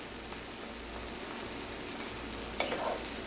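Garlic sizzling steadily in a hot pan, cooking as the base for a Hatch green chile sauce, with a continuous close crackling hiss and a brief louder spatter near the end.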